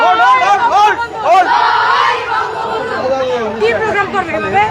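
Student League rally crowd on Sheikh Hasina's homecoming day, many voices chanting slogans in loud, continuous overlapping rhythmic calls with steady crowd chatter throughout.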